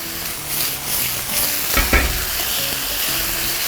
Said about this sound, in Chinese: 豆瓣酱一定要炒香哈，一定要给它炒过